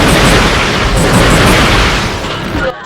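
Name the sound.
Rhino 2 weapon explosions in Ratchet & Clank 2 video game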